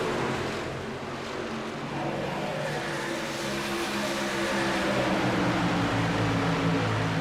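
Racing trucks in a NASCAR-style truck series race run together around an oval track, producing a steady, dense engine drone that holds at constant loudness with a broadband roar and sustained harmonic tones. There is no talking.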